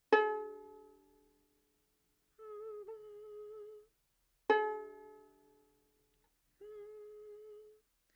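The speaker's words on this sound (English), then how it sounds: "Now with that note in our head, let's pluck our string." The A string of a violin is plucked twice, each pluck ringing out and decaying, and each one is followed by a steady hummed note matching its pitch.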